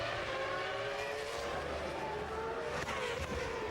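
Open-wheel racing car from the Open Wheel Manager 2 racing game losing its rear end, engine whine holding steady and loud throughout with a brief tyre scrabble near the end, no voices over it.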